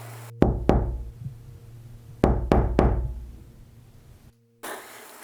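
Two sets of sharp knocks on a house door, three raps each, loud and close with short ringing decays and a pause between the sets, then a brief burst of noise at the end.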